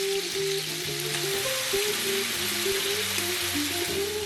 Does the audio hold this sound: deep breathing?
no